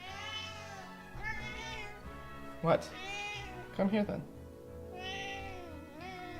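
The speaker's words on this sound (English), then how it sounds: "The cat is back." A cat meows several times in drawn-out, rising cries, close by, alternating with a person talking over and between them.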